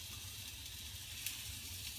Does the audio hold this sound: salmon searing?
yes